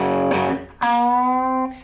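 Distorted electric guitar, a note on the third string at the third fret struck and bent upward, then held ringing and sustained for about a second, close and solo.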